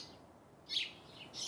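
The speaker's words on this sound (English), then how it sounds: "can these birds please stop chirping in my ear?" Birds chirping in a Fate/Stay Night visual novel scene, two short, faint high tweets over a quiet background.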